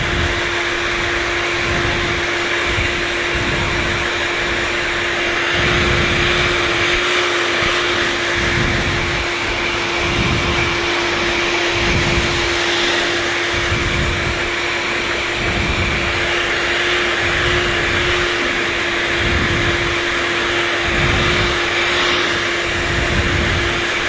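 A blow dryer runs on damp hair during a haircut training session, giving a loud, steady airy roar with a low hum and rhythmic swells as the airflow shifts over the hair, lasting the full twenty-four seconds with no talking.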